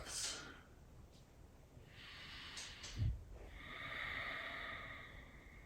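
Slow, deep breaths of a person lying on their back during a relaxation stretch with a spinal twist: a soft inhale early, then longer airy exhales through the nose and mouth, quiet and close.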